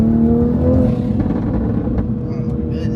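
A Toyota Supra accelerating, its engine note steady and loud as if heard from inside the car, running continuously without speech.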